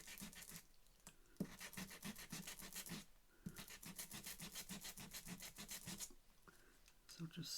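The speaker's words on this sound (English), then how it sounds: "I'm going to sand it there where I smudged it." A sander scrubs back and forth across a craft paper file folder, giving rapid rasping strokes in bursts with short pauses between them, close and fairly loud.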